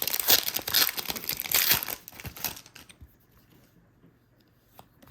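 Sharp crinkling and tearing of a foil pack of hockey trading cards being ripped open up close, two seconds of dense crackle, then softer rustles and light handling fading to near quiet.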